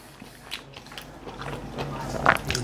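A bite into soft, light Italian pizza with a golden, crispy base, close-up crunchy chewing and mouth sounds that grow louder toward the end, with faint background noise.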